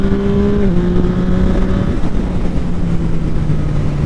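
A motorcycle engine drones steadily and loudly while riding, its pitch dipping slightly as it shifts, with heavy wind rush throughout and no speech.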